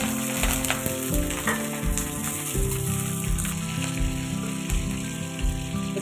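Dried and green chillies crackle and sizzle steadily in hot tempering oil, a close, continuous frying hiss with a tonal melodic layer running underneath.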